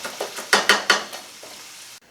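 Philly cheesesteak calzone filling being stirred in a hot pan, a run of scraping stirs and soft sizzle, with three sharper strokes close together before the sound fades into quiet.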